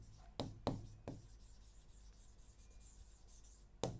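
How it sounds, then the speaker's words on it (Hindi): Pen or marker writing words by hand on a board or paper, a few sharp strokes and taps spaced across a quiet stretch, close and alone. "कॉन्ट्रास्टिंग यहाँ लिख रही हूँ"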